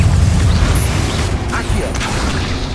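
A Confringo explosive spell cast in Hogwarts Legacy on PS5, heard as a dense rumbling burst with a creaking, mechanical crackle over constant low combat noise, loud and close.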